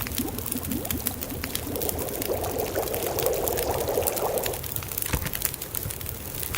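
Half a liter of water heating over a crackling campfire in The Long Dark, a steady bubbling and pouring-like wash over a constant rough background, with small clicks and pops.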